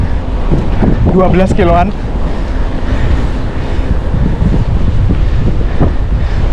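A strong headwind roars across the microphone while cycling near Frankfurt, a loud continuous rushing buffet that lasts throughout, with a short stretch of talking near the start.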